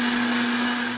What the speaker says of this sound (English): Put them in the blender. And puree.